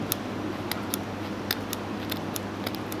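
Cutters snip at steel fishing trace wire in a series of sharp, close clicks, about a dozen irregular snaps over a quiet room hum.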